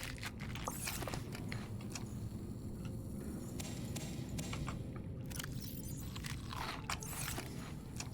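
In the underwater survival game Subnautica, food is eaten with repeated crunchy bites and chewing over a constant low, rumbling ambient hum.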